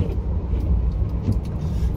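A car rolling slowly into an airport parking area in Japan, steady low engine and road rumble heard from inside the vehicle, with faint background noise and no talk.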